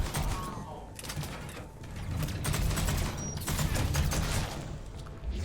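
Gunfire in Mass Effect 3, a dense clatter of rapid mechanical shots and impacts that stays fairly loud and continuous, heard alone.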